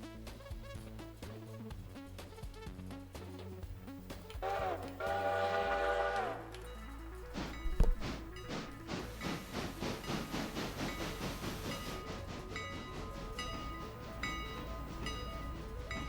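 Rumbling mechanical drone of a railroad turntable rotating a train in the game Railroader, with hissing steam and clanking rail noise layered over a steady low hum throughout.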